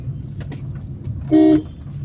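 A car on the road sounds a short, loud horn toot over a constant nearby engine rumble.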